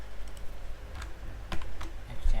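Soft, irregular clicks of typing on a computer keyboard, with scattered keystrokes and a few quick clusters, close by and fairly quiet.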